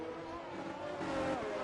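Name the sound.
Formula 1 race cars in F1 22 video game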